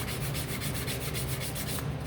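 A wooden wagon craft piece is sanded by hand, a steady back-and-forth rasping of abrasive on wood in even rhythmic strokes, close and alone with no talking.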